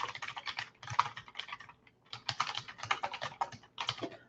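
Fast, close typing on a computer keyboard while entering client notes comes in two bursts of rapid clicking keystrokes, separated by a short pause, with no talking.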